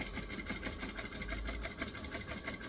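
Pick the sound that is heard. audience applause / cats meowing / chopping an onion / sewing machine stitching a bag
sewing machine stitching a bag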